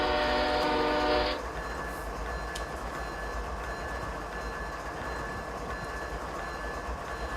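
An ES44AC locomotive horn blasts loud and steady for just over a second at a crossing in a train simulator game, then cuts off, leaving a low rumbling train drone running beneath for the rest.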